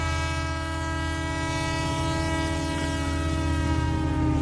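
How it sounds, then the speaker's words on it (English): A passing train holds a loud, steady rumble with a sustained horn-like harmonic drone and faint rhythmic wheel clatter, continuous throughout with no voices. "I'm having to wait on a train."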